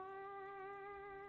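Yoki cat from the video game Fallout 76 giving a single steady, tonal meow-like cry, faint and clean, with no talking over it.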